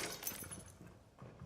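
Window glass smashing in Rainbow Six Siege during a competitive match on the Villa map, a short breaking crash up front with clinking debris fading into quieter game noise.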